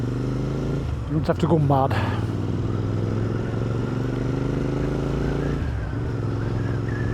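A Royal Enfield Interceptor 650 motorcycle rides along countryside back lanes, its engine holding a steady droning hum throughout with a brief clattering burst of revs early on, while someone speaks over it.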